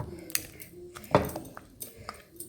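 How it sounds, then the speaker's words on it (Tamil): A metal spoon stirs ghee and condensed milk together in a bowl, giving soft scraping and a few light clinks against the sides, close and fairly quiet. "முதல்ல நெய்யும் மில்க் மேடும் சேர்த்து நல்லா கலந்து விட்டுடணும்."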